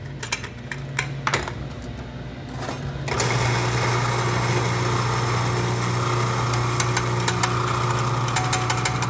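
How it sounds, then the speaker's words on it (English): An electric coffee grinder grinds coffee beans as fine as possible, starting with light clicking before a loud, steady motor whine sets in and holds for several seconds, alone without talk. "we have opted for the electronic version. So what we're going to do is we're going to grind this as fine as we can."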